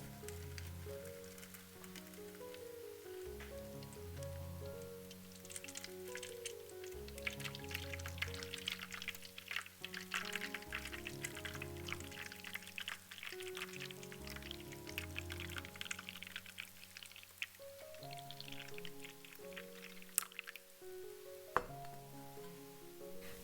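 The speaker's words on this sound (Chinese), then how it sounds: "水浴盆中倒入煮沸的热水" Boiling hot water pours into a water bath pan around a cake tin, a steady trickling splash with occasional clinks, set against soft background music.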